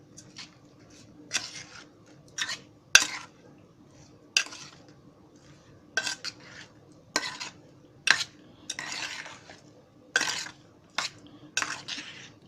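A spoon stirs banana raita seasoned with salt and sugar in a bowl, giving a dozen or so crisp metallic clinks and scrapes in an irregular rhythm, close and clear against near silence.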